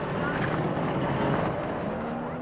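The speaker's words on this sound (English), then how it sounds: "This is World Formula 4 powerboat racing." A World Formula 4 racing powerboat engine drones steadily, a loud sustained buzzing roar over water, with a narrator talking over it.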